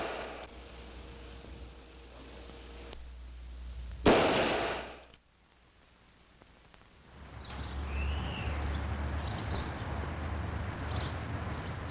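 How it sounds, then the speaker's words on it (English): A single rifle shot fired from ambush cracks sharply and loudly, then drops into quiet before a low outdoor ambience returns. "Some die from a rifleman's bullet fired from ambush"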